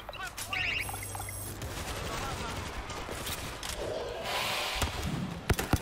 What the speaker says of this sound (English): Notice how good the flare gun is.